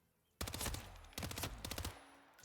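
Rapid automatic gunfire from a video game match set on a Miami map comes in two loud, close bursts of rattling shots, with brief ringing tails between volleys and no talking.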